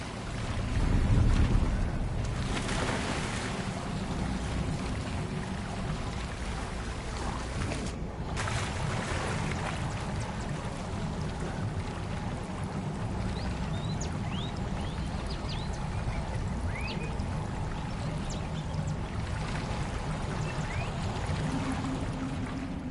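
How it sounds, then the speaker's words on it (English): Water bubbling and sloshing in Hogwarts Legacy, a gurgling wash with a louder gush near the start, then a steady moderate churn alongside faint airy noise and scattered light chirps. "The water's bubbling."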